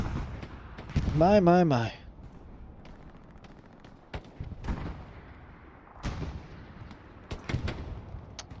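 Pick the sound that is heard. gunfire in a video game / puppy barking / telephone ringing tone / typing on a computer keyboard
gunfire in a video game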